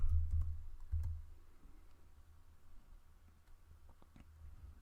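Quiet clicks of fingers typing on a computer keyboard, a few sharper taps at the start then sparse faint keystrokes over a low background hum.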